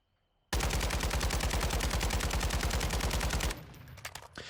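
Sustained automatic fire from an unmodified RPK light machine gun in Warzone 2.0, one loud rapid burst of evenly spaced shots lasting about three seconds after a quiet start, then a fading tail with faint clatter.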